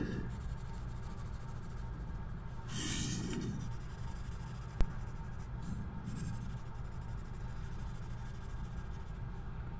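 A hand colouring in a drawing of a superwoman and a cute cat with a pen or pencil: soft, quiet scratchy strokes on paper, with a few louder scribbling bursts and one sharp tap, no talking.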